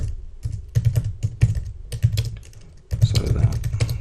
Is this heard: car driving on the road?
no